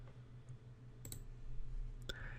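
Several sharp computer mouse clicks, two quick pairs spaced about a second apart, over a faint steady hum while a PivotTable is set up in Excel 2013.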